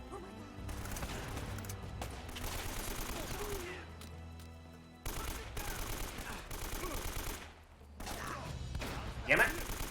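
Gunfire in the video game Uncharted comes in rapid, fairly quiet bursts and volleys, broken by short pauses and repeated across the stretch.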